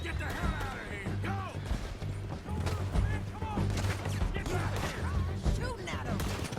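Gunfire in Red Dead Redemption 2 as a man is shot at: a rapid, uneven volley of sharp cracks and impacts at mid distance, mixed with shouting voices.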